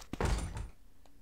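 A locked door in Resident Evil DS rattles with one heavy thunk as it is tried, followed by a short fading knock, close and moderately loud.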